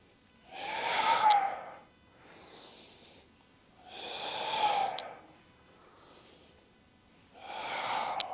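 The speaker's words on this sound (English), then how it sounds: "Inhale on the way down, exhale on the way up." Heavy, forceful breaths during a dumbbell workout come in three strong exhales spaced a few seconds apart, with softer inhales between them, close and clear with no talk.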